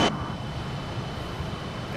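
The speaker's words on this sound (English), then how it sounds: "Listen to that little Fokker, man." Engines of a Fokker F28 jet airliner in a flight simulator game, climbing after takeoff: a steady, continuous broadband roar with low rumble, held at even level throughout with no voices.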